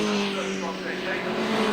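TVR Tuscan race cars battling into the chicane at Snetterton, engines roaring close and loud with a sustained high note and a hint of tyre scrub, while a commentator talks over them.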